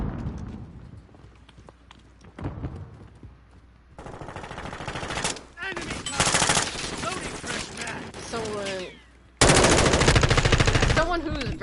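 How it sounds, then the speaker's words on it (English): Gunfire in Call of Duty Modern Warfare 2 gameplay, bursts of rapid automatic shots and single cracks in loud clusters with quieter gaps between, mixed with other game effects. "The guns feel nice."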